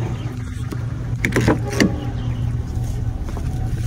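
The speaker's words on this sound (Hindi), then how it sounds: "गाड़ी स्टार्ट खड़ी हुई है" A parked car's engine idles with a steady low rumble close by, with a few brief clunks and rustles partway through and no clear speech.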